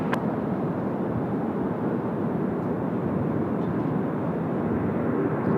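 A jet airliner takes off at Sydney Airport, a steady, broad roar that fills the whole stretch without letting up or changing much.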